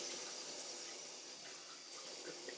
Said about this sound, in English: See how I'm hitting his body with the water streams?